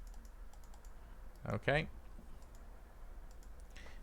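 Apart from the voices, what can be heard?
typing on a computer keyboard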